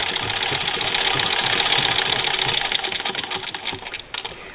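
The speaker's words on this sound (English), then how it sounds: "most of my treadle machines could handle a job of going through 4 layers of fabric" A treadle sewing machine stitching through four layers of thick fabric, working on a sweater quilt. It gives a loud, continuous mechanical whir with fast rhythmic knocking, which slows and thins near the end.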